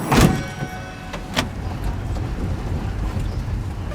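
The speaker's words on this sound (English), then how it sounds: "we drive to Beshisahar from Kathmandu" A minibus drives from Kathmandu toward Besisahar in Nepal, with a steady rumbling road noise and some wind buffeting, plus a few brief knocks and rattles early on.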